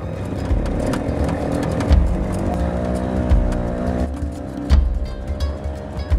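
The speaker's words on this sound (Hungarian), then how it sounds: "A háromkerekű riksa hajmeresztő sebességgel száguld a poros utcákon." A three-wheeled auto rickshaw speeds along dusty streets, its engine droning steadily up close with bumpy thuds and rattles breaking through now and then.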